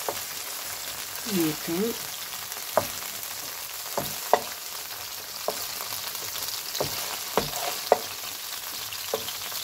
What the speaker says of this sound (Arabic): ونحط هذاك البصل والشامبينيون والفلفل اللي كنت قطعتهم معكم، فوالا هكا نحمصهم هنايا